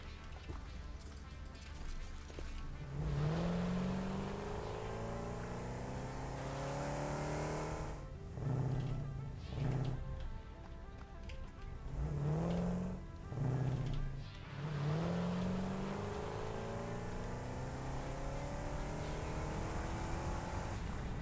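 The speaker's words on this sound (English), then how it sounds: "the automated trucks are driving in one side and I'm driving in the other side" Vehicles in the factory-building game Satisfactory drive past with engine tones rising and falling through several gear shifts, surging loud around the middle and easing off, over a steady low rumble.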